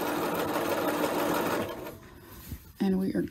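Domestic sewing machine stitching a simple top, a steady loud whirring run for about a second and a half, then quieter handling, followed by a short renewed burst of stitching near the end.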